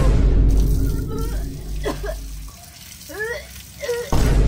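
Tilapia-flavoured water pours into a gallon water dispenser jug with a steady splashing gush that stops abruptly near the end, while voices and brief squeaky vocal sounds come over the top.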